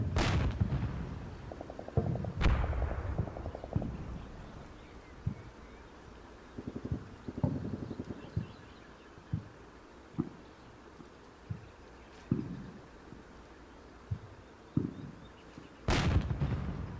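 A tank in Combat Mission Shock Force fires at a squad: booming blasts open and close the stretch, with a stream of fainter, distant thuds and shots between them.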